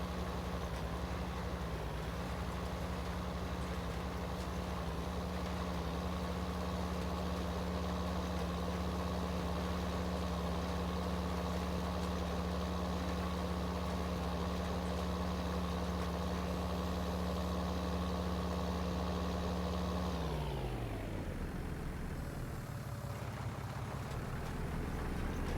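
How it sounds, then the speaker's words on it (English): A tractor engine idles in a farming video game, a steady low rumble with a continuous hum that holds for about twenty seconds, then winds down and fades toward the end. "Here's the tractor we've got."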